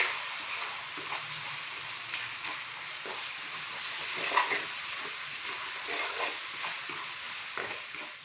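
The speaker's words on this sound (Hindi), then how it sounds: "हल्का सा हम इनको भून लेंगे 1 से 2 मिनट के लिए" Spices with coriander powder and a splash of water fry steadily in a pan, a continuous close sizzle that holds evenly throughout with faint stirring scrapes and no talk.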